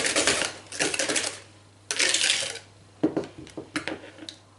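Whisking sugar into eggs by hand until pale for a French quatre-quarts cake, with rapid metallic whisk clatter against a bowl coming in loud bursts, then shorter separate strokes.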